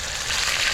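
Wild vegetables fry in hot cooking oil, a steady close hiss and crackle of sizzling for a brief moment.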